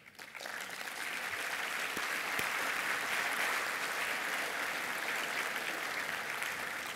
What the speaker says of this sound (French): notre standing ovation